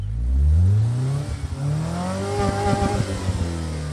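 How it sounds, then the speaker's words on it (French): A stuck car's engine revs hard as it tries to pull out of mud, rising and falling in pitch with sputtering bursts, loud and close. "Mais là, t'as embourbé la voiture."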